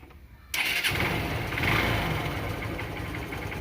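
A car engine being checked after an engine oil treatment cranks and catches, then settles into a steady, fairly close idle that rumbles on without speech.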